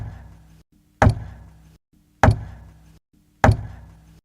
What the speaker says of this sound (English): Matt could hear a regular knocking